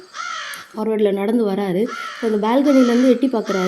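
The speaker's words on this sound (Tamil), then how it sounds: "இந்த காக்கா சவுண்டு வந்து அவருக்கு கேட்க ஆரம்பிக்குது" Crows cawing loudly and repeatedly near a balcony, harsh calls recurring in bursts while a person narrates over them.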